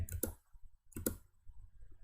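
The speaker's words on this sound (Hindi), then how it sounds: "मैं क्लिक करता हूं ताकि हम लोग इसको सबमिट कर सकें" A computer mouse clicks to submit code, two sharp close clicks about a second apart, each a quick double tick in a quiet room.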